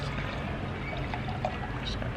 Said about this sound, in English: Just gonna pour some more wine to that.